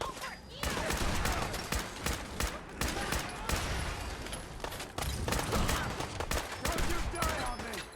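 Rapid bursts of gunfire in a Fallout 4 battle, dense overlapping shots filling the whole stretch with brief lulls, loud and close, with voices shouting over the shooting.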